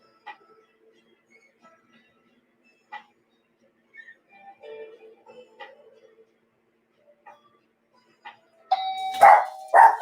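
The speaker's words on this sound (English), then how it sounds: "You did that just to make the dog bark." A doorbell chimes a couple of times faintly, then a dog breaks into loud, close barking near the end, with quiet room noises in between.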